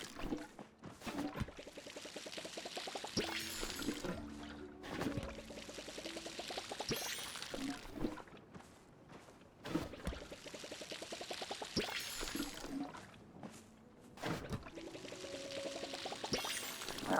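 Watering can pouring over trees in the video game Palia, repeated splashy pours in several separate bursts with short gaps between, moderately quiet and alone.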